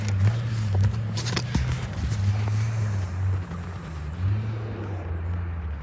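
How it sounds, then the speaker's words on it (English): Trucks doing donuts nearby, a steady low engine drone with wavering pitch as they circle, mixed with wind buffeting the microphone and no talk. "They're out here doing fucking donuts in their fucking trucks"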